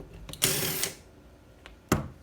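A 6 mm Allen bolt being loosened at the bottom of a BBR SP5 motorcycle fork, with two sharp, close ratcheting clicks, each followed by a brief rasp, in a quiet workshop.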